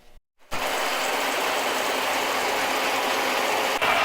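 A metal rod being turned down to 5/8 inch on a lathe produces a steady, loud, broadband hissing cut after a brief silent gap, continuing evenly with a small dip near the end.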